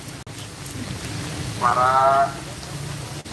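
Steady rain falls on an outdoor rally outside a police station in Ciamis, a constant dense hiss lasting throughout, while a voice briefly speaks over it midway.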